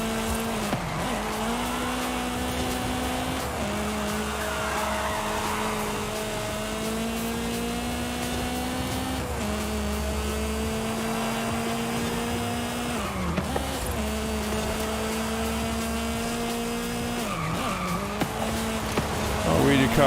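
Car racing in Forza Horizon 5: a steady engine note rising and dropping in repeated gear-shift sweeps across the whole stretch, with tire noise, while someone talks over it.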